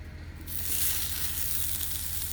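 Sausage hitting a Blackstone griddle set to medium low bursts into a steady, bright sizzle after a quiet start, crackling evenly and close up with no talking.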